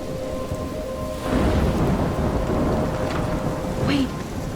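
A thunderstorm in the video game Life is Strange: steady heavy rain hisses throughout while a deep rumble of thunder swells in partway and rolls on, with a brief whistling gust near the end.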